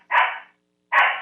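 A small dog barks twice, loud and close, with a short gap between the two sharp yaps.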